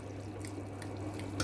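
Water heats toward a boil in a cooking pot for mutton yakhni pulao, giving faint, scattered bubbling pops over a steady low hum with no voices.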